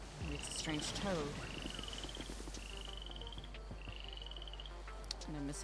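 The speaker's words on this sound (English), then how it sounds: "Maybe it's a strange toad." Regular trilled croaks from a toad in the video game GTA NoPixel recur roughly every second and a half, with people talking over the steady game ambience.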